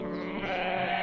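A single goat bleat, a short wavering nasal cry with rich harmonics, heard close and alone for about a second.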